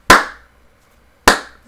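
Two sharp, loud hand claps ring out about a second apart, each a crisp close slap with a short decaying tail, mimicking a quarterback's shotgun cadence, with silence between them.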